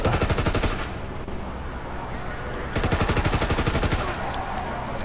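Lewis machine gun fire in the World War 2 Zombies video game, two fast rattling bursts of automatic shots separated by a short lull, loud and close.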